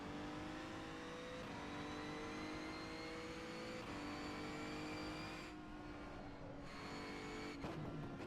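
A Megane Trophy race car engine in the racing game rFactor 2 revs hard and continuously, its pitch sweeping up through repeated gear shifts, with brief tyre squeal, close and steady throughout.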